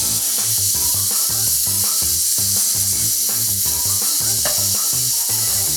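Clams (kerang) frying in a hot pan for sate kerang, a loud steady sizzle and hiss with constant crackling spatter, close and continuous with no talk over it.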